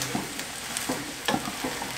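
Cashew-cream sauce being stirred in a pan as diluted cornstarch thickens it, with soft repeated scraping strokes over a low steady sizzle; no voices.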